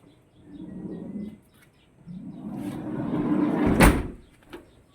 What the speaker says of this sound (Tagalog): Sumasayad dito yung pinto mga ka-driver.